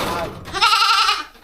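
A goat that has got loose on a farm resort in San Jose, Occidental Mindoro, gives a loud, close bleat lasting under a second, with some indistinct voices or noise just before it.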